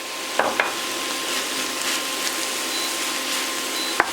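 Cumin and paprika spices frying in a pan, a soft steady sizzle with a few light clicks of stirring near the start and end.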